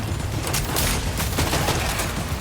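Machine gun fire in the video game Death Stranding 2, a dense rattle of rapid bursts and booms layered over a busy, noisy background, with no talking.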